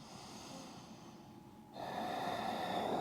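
A slow breath during yoga practice, a quiet close inhale followed by a louder, steady exhale through the nose.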